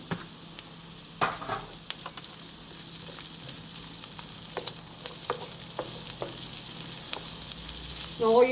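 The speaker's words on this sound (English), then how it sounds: "the onions are cooking nicely" Onions cooking in a pan for coq au vin hiss with a soft, continuous sizzle, punctuated by occasional scrapes and taps of a utensil stirring them, growing a little louder toward the end.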